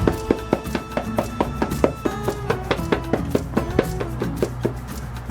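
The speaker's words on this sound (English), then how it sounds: "So what I want to do is try and tap them off the lid." Repeated light taps on a plastic container lid holding live flightless fruit flies, a steady run of sharp, close knocks about every third of a second, with no voices.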